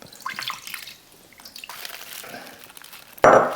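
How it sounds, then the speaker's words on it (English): Water is poured into a pot while making pulled pork Mexican lasagna, soft trickles and drips giving way to a sudden louder splashing gush near the end. "Now I put a little water at the bottom."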